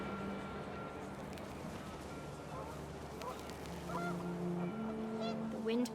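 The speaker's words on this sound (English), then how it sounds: "The wind picked up and panicked geese appeared and quickly went." Panicked geese honk in a flurry amid gusting wind in What Remains of Edith Finch, a busy layered scene with scattered cries rising and falling over a steady rushing bed of noise.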